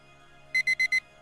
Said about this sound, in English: Well, the alarm clock goes off.